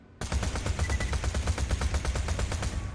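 Rapid automatic gunfire from a weapon in Borderlands 2 rattles out as a fast, evenly spaced burst of sharp shots, loud and close, running almost three seconds without pause after a brief quiet start.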